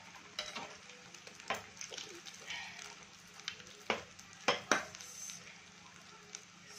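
Beef kebabs fry three at a time in a pan, giving a soft, steady sizzle. Irregular clinks and scrapes of a utensil against the pan break through it now and then, with no talking.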